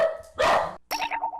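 A Bedlington terrier lets out a couple of sharp, close barks separated by brief pauses, with a higher-pitched yappy bark at the end.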